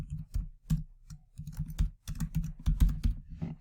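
Rapid typing on a computer keyboard entering text into a text box, with close, crisp key clicks in irregular bursts and short pauses between them.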